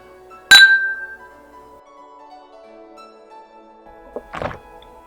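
Two glasses clink together in a toast with 40-proof Ukrainian vodka, a sharp bright ring that decays over about a second, followed later by a softer clatter of glass being handled.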